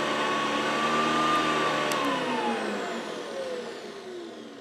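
Hoover vacuum cleaner fitted with a HEPA bag running on carpet, a loud steady motor whine with a tone that dips gradually in pitch and volume as it runs; no one speaks.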